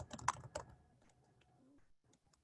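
Quick bursts of keystrokes on a computer keyboard, a flurry of close clicks at first that thins into scattered, fainter taps.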